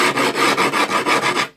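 Something hard and metal is scraped along the edge of skateboard grip tape in about seven quick, even rasping strokes, loud and close, before stopping abruptly.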